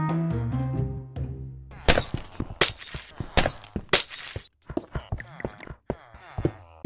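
Gray glass blocks are placed in Minecraft while a trading hall is built, a series of sharp glassy clinking and breaking sounds in quick irregular succession, loud and close, following a few musical tones.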